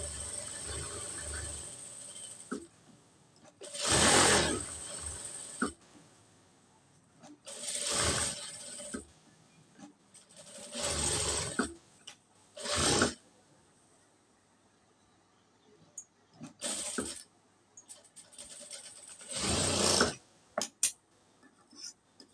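A sewing machine stitches a pant pocket in repeated bursts of whirring, each a few seconds long and separated by quiet pauses, heard close with no talking.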